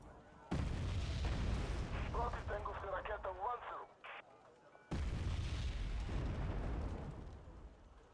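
Two heavy booming gunshots from a tank in a video game hit hard about four seconds apart, each a loud low blast with a rumbling tail, and a voice talks between them.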